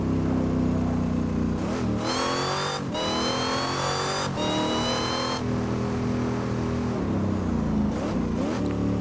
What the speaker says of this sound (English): This car has 1000 horsepower. It's the Dodge Demon, I think it's called.